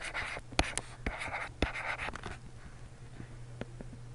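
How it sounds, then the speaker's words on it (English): A pen scratches out a formula by hand on paper in quick strokes with sharp taps between them, close and clear, then slows into a few lighter marks near the end. "I'll write the formula here at the top."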